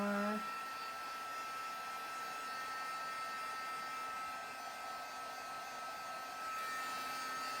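A hair dryer blows steadily while drying her, a continuous whirring hum with a high whine, close and even throughout.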